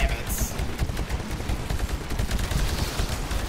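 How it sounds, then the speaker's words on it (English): Rapid, continuous bursts from an anti-Titan machine-gun rocket launcher in Titanfall, a loud, dense barrage of explosive fire that keeps going without a pause. "That's what I was firing. Like a machine gun rocket launcher."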